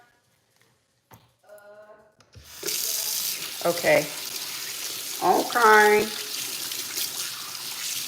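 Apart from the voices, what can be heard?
warm tap water running while washing hair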